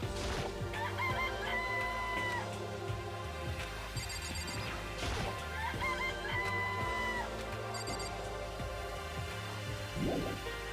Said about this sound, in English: It's also a chicken.